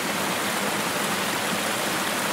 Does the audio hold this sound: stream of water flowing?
yes